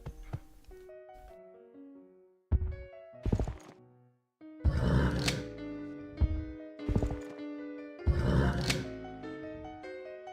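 Cavalry horses in Civilization III, several separate bursts of whinnying and snorting neighs with heavy hoof thuds between them, loud and close.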